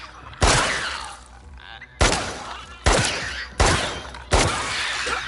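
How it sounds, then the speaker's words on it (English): Five loud gunshots in The Last of Us Part II, spaced about a second apart, each a sharp blast with a ringing tail and a rumbling background. "Try to shoot it in the head."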